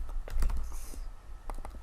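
Keys struck on a computer keyboard for a paste shortcut, a few quick close clicks in a short cluster, then two more light taps after a pause, with no talking.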